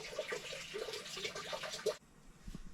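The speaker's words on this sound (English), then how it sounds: "That was my AC unit. The pump's broken, so it's dripping into a bucket at the moment." Water from a broken AC unit pump drips and splashes into a bucket, quiet irregular trickling and spattering that stops abruptly partway through, followed by a faint lone drip.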